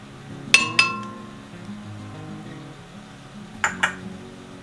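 An egg going into a 1 quart glass measuring cup makes two pairs of bright clinks against the glass, close and sharp, separated by a quiet pause.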